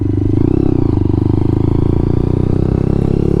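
A Lexmoto LXR 125 motorcycle being ridden on the road, its small single-cylinder engine giving a loud, close, steady rapid thrum with a rattly clatter and no voices over it.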